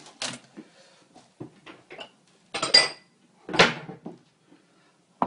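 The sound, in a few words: small bowl being handled while plating up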